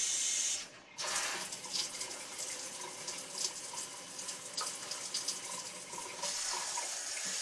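Tap water pours steadily into a sink while rice is washed, a loud continuous hissing splash that briefly cuts out near the start, with a voice heard faintly.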